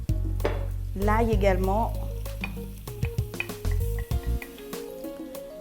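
Shrimp sizzling in hot oil with chopped orange zest and garlic, a loud steady frying hiss broken by stirring clatter, with someone talking over it.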